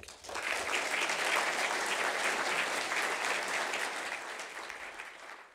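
Lecture-hall audience applauding to welcome a speaker, steady clapping that swells quickly, holds for several seconds and then tapers off near the end.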